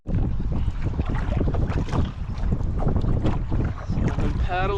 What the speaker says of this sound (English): I've been paddling for about an hour. Last half hour or so it's been against the wind.